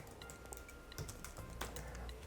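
Keys clatter on a computer keyboard in quick, irregular taps, faint and close, during an HTML coding session, with no voices.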